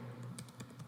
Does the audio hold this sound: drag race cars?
no